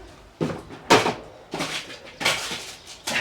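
A drawer or cupboard being pulled open and rummaged through in a search for a knife, a series of close wooden knocks, slides and clunks in irregular bursts, no voices.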